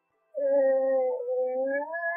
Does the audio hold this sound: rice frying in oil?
no